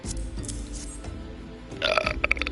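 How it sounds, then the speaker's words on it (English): A character burps in the online role-playing game Final Fantasy XIV. Quiet game ambience comes first, then a short, fairly loud belch with a few gulping pulses near the end. "I got burp on"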